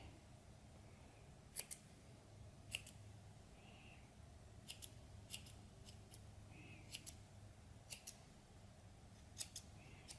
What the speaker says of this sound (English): I'm going to trim how I actually like to do them, and I'm cutting straight across from that edge